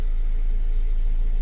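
A car engine idles steadily in a well-ventilated spot, a constant low hum with no talking and no change in pitch throughout.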